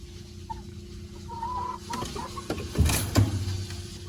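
Backyard chickens cluck softly and burble as they file into their coop, a few louder clucks and rustles close by near the end over faint background noise.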